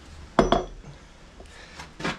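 Metal cast horns clink against a hard surface as they are flipped over, giving two sharp close knocks in quick succession followed by a couple of fainter clinks.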